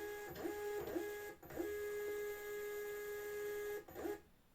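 A MUNBYN thermal label printer feeds and positions a label by itself: a quiet, close series of short motor whirs and clicks over a steady electronic whine, ending abruptly.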